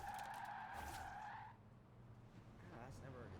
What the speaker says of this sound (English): My car just spun.